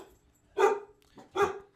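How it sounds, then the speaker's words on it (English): Dogs give two separate barks about a second apart, at a moderate distance and fairly loud, against an otherwise quiet room. "The dogs are barking again."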